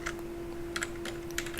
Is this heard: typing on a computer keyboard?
yes